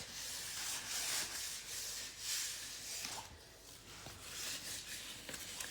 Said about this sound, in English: you can decide if you want to sand more to reveal more wood